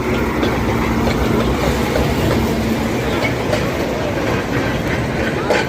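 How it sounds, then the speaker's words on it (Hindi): A passenger train rolling past at Ahmedabad, loud and close, with a steady rumble, rhythmic clickety-clack of wheels over rail joints, and a faint metallic squeal, continuous throughout. "ट्रेन आ गई है लंदन से"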